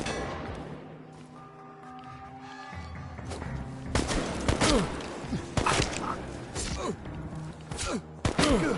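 Gunfire in the video game Chernobylite, heard as a run of sharp shots and heavy thuds that grows louder and denser over a low droning game backdrop, with bursts clustered toward the end.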